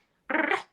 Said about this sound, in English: dogs that like just bark at everything and bark and make that